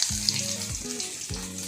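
Curry leaves sizzle and crackle in hot oil while lemon rice is being made, a steady frying hiss with a few louder pops and short tonal squeaks, close and alone with no talk.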